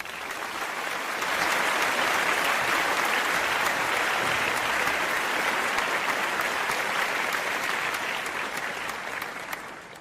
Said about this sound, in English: He deserves applause. Let's give him a round.